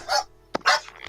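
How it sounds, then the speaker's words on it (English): A landlord's dog barks twice nearby, two short, sharp barks separated by a brief pause. "it's my landlord's dog"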